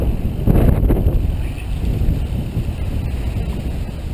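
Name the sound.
wind blowing on a bike ride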